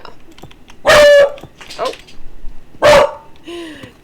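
A pet puppy barks twice in sharp, loud yips about two seconds apart, with faint background sound and a brief spoken exclamation between the barks.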